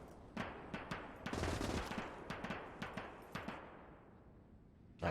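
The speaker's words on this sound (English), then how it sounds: "MG firing on the other side of the bridge" Machine-gun bursts rattle in a World War II battle game, several short volleys of rapid shots repeating at a moderate distance with echoing tails and no talking.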